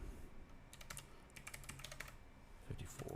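Rapid clicking keystrokes on a computer keyboard during network setup, a quick uneven run of light taps close by with no voices.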